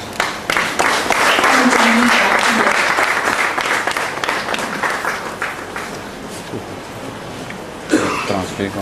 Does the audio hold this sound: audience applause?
yes